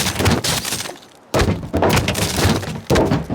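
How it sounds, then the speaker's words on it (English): An axe in the VR horror game Lies Beneath smashes through wooden boards, loud close thuds and splintering cracks in several heavy bursts separated by short gaps. "we can use those to break the boards that we have been seeing"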